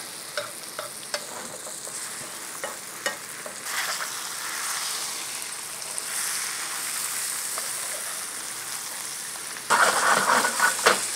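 Butter browning into beurre noisette in a pan for haddock meunière sizzles in a steady, close hiss with scattered stirring clicks, then swells into a louder, crackling burst near the end; no voices.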